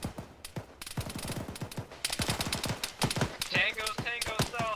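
Rapid bursts of gunfire from the military game Arma 3 crack out close and loud in quick repeated volleys, with no pause through the stretch.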